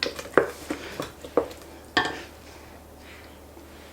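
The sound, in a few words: stirring beaten eggs into pecan pie filling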